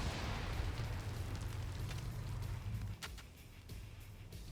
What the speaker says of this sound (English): they just tried to blow him up with a satchel!